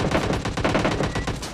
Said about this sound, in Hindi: तो मैं कवर फायर देने के लिए थोड़ा सा बाहर पीक करता हूँ